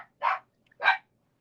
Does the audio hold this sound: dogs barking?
yes